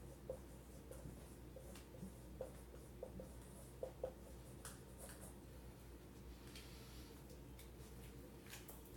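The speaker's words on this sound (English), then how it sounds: "I'll write that down for you" A pen writes by hand on paper, with faint scratching and a few soft taps from the pen, heard quietly against a low room hum.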